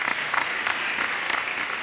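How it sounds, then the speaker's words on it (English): Children clap their hands in applause, with steady repeated claps at a quick, even pace that sound soft and somewhat distant. "Or what we call applause."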